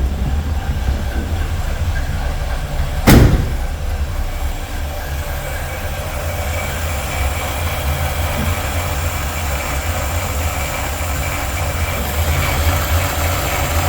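A rebuilt Chevrolet 327 V8 in a 1965 Impala, with a wobbling crank pulley, runs at a steady warm-up idle as a loud, constant drone throughout, broken once early on by a single sharp knock.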